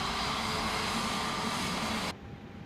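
An Airbus A320neo engine spooling up in Microsoft Flight Simulator 2024, a steady broadband roar that cuts off abruptly near the end, leaving a faint residual hum.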